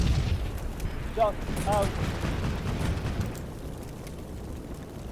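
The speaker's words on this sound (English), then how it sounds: "It's going to be the on-map artillery for sure" Artillery explosions in the video game Combat Mission Shock Force 2, heard as loud, deep booming rumbles under a short spoken radio call.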